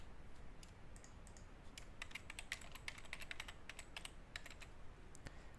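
Rapid, irregular keystrokes clatter on a computer keyboard at close range, a quiet flurry of light clicks with no voices.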